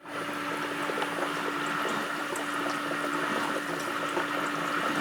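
A Bosch dishwasher running with its side panels removed, a steady pump whir with a faint motor hum under sloshing, splashing water, close and continuous without pause.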